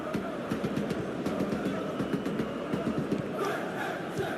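Stadium crowd noise from a football video game, a broad steady roar of many voices swelling and murmuring without a break, with no clear talk over it.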